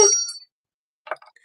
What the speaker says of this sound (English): I'm gonna ring the bell for Yogi Selma